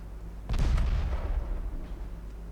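Naval guns fire high-explosive shells in Ultimate Admiral Dreadnoughts, a German 1910 fleet battle: one sharp, heavy boom with a deep low rumble that rolls on and slowly fades.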